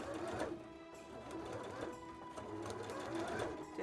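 Sewing machine top stitching fabric, a steady, quiet mechanical whir with a rapid needle rhythm running throughout and faint pauses.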